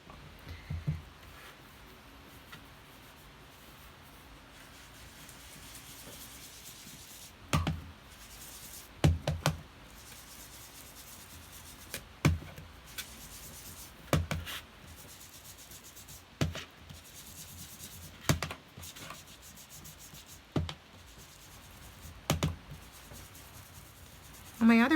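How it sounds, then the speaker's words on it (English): An ink blending tool rubs pale peony ink onto paper for a die-cut card, making soft, quiet brushy strokes with light taps recurring every couple of seconds; no one talks. "I'm going to do a little bit of ink blending."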